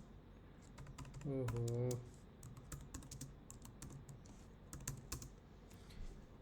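Rapid keystrokes on a computer keyboard while coding a Go REST API, close clicks in bursts under a brief spoken exclamation, then continuing in scattered taps.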